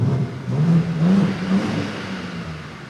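A brand-new BMW M2 engine revs up in a close, loud rising surge, holds, then settles back down as the sound trails off.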